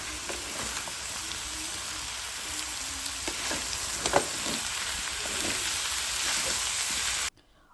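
Soya methi (dill leaves) dropped into potatoes frying in a home kitchen pan, a steady loud sizzle and crackle with occasional stirring scrapes, cutting off abruptly near the end.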